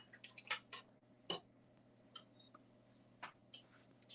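Spatula scraping yogurt-laced plum cake batter around a mixing bowl, a series of short, soft scraping and tapping strokes at irregular intervals over a quiet room hum.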